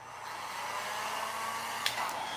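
A small working toy blow dryer made for a salon doll runs with a steady, airy whir throughout, fairly quiet and close, with a faint click near the end.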